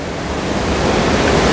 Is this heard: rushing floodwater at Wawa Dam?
yes